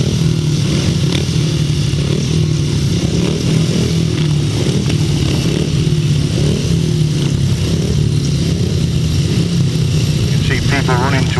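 Several grasstrack racing motorcycles idle and rev at the starting gate of a meeting at Bewdley, a loud continuous engine drone with fluctuating revs that fills the whole stretch, while a commentator talks over it.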